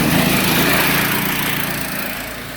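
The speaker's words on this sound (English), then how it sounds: "This dude randomly showed up on a mini bike." A mini bike's small engine runs loud and close in a continuous buzzing drone, holding steady and tapering slightly in level toward the end, with no talking over it.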